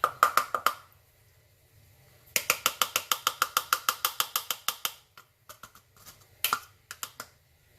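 One cup of flour shaken through a metal sieve for ube-cheese pandesal dough, rapid rhythmic rattling taps in bursts, the longest running about two seconds, then scattered softer taps.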